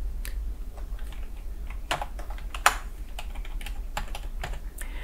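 Irregular computer keyboard keys clack close by, single presses and short bursts with one sharper strike, alone with no talk.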